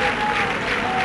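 Vicenza supporters applaud and cheer after a 0-0 Serie B draw away at Ternana, a steady wash of clapping from a stadium crowd, with a faint tonal hum running beneath it.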